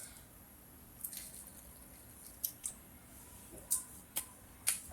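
A person drinks water in a quiet room, with several soft, wet gulps and mouth squishes spaced unevenly over a few seconds and no talking.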